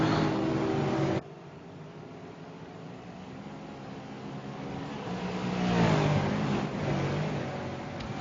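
V8 Supercar racing cars from a racing game lap Oulton Park, their engines droning steadily, then swelling as a car passes near before easing off, with no voices.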